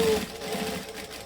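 A sewing machine stitches a pocket seam in a steady, close whir that runs the full length, with a brief higher tone at the start.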